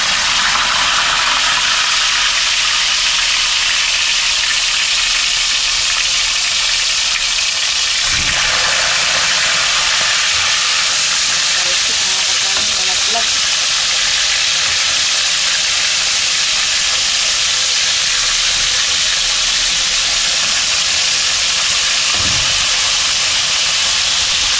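Fish frying in hot cooking oil gives a loud, dense, continuous hiss and sizzle, close up and steady for the whole stretch, with a slight shift partway through and no talking.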